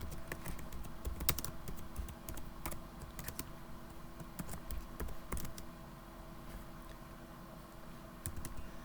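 Quick keystrokes on a computer keyboard as an address is typed in, irregular clusters of close, fairly soft clicks with brief pauses over a faint steady room hum.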